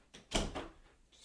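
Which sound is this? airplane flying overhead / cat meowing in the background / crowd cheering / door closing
door closing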